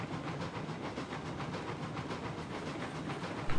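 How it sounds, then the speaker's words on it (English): A simulated freight train rolling along tracks in a train simulator game, a steady rumbling hiss with rhythmic clickety-clack pulses from the wheels, continuous and fairly loud throughout. "the train sounds good. It doesn't sound like it's over performing"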